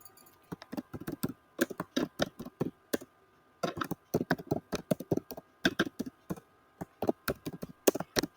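Typing on a computer keyboard: bursts of quick, close key clicks in uneven runs, separated by short pauses, with no voices.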